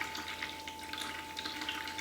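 Hot strike water pouring into a mash tun for brewing a Tripel, a steady close splashing rush with a faint tonal whine underneath, with no talk.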